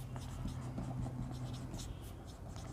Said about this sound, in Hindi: तो यहाँ पे हम हेडिंग लिख देते हैं